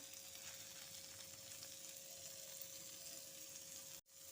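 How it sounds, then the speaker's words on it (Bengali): Brahmi greens lightly frying in a pan with salt and turmeric, a steady close sizzle running throughout with no voices, then cutting out abruptly near the end. "লবণ হলুদ দিয়ে আমি শাকটাকে ভালো মতো করে একটু হালকা ফ্রাই করে নেব।"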